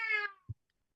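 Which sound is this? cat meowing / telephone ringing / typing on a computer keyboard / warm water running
cat meowing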